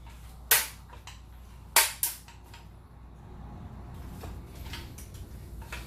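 Sharp metallic clicks from the push-button latch on an AK rifle receiver, one crisp snap followed about a second later by a quick double click, close and loud against a quiet room.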